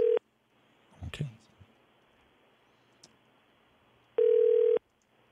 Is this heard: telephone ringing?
yes